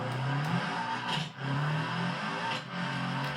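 The Sunburst Hiroshi's engine in BeamNG.drive drones and revs loudly as the car drives on a dirt rally track, its pitch rising and falling with a couple of brief dips between gear changes.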